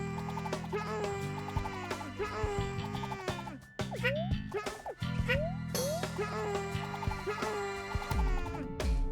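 Chickens in the Yoshi's Woolly World video game cluck in quick, tonal bursts over bouncy game music, loud and busy, with several short rising squawks scattered across the stretch.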